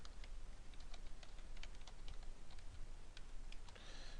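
Rapid, faint clicking of keys on a computer keyboard, steady uneven typing with no talking.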